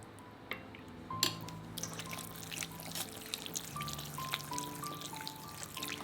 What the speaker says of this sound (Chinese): 分次倒入这些鸡高汤